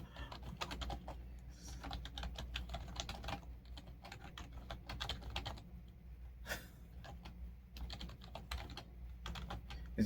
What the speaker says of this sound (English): I don't look at the keys when I'm typing.